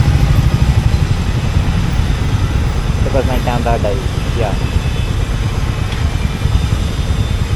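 A Royal Enfield Meteor motorcycle engine running while riding through Bangalore city streets, a loud steady low rumble with wind noise throughout and a brief spoken word from the rider.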